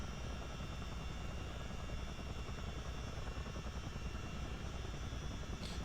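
Steady, dense rotor thrum and turbine roar of a CH-47D Chinook helicopter in Microsoft Flight Simulator 2020, loud and continuous throughout with no talk.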